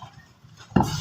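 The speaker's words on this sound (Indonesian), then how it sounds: "Kita aduk begini lur ya." A spoon clinks against a bowl of bakso as it is stirred, a faint scrape and then a sharp ceramic knock followed by a short rattle, close and alone.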